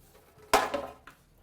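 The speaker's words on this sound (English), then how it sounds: "Then we take our baking sheet and put the package right on there." A parchment-wrapped salmon and wild mushroom parcel is set down onto a metal baking sheet with one soft clatter and rustle, then a faint second tap.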